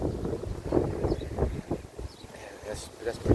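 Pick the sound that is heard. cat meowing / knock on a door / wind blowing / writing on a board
wind blowing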